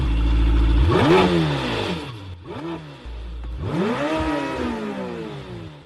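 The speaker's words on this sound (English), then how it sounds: "I think this engine start is a great like teaser" A car engine starts and revs hard: loud, close sweeping rises and falls in pitch as the throttle is blipped again and again, with one brief word spoken.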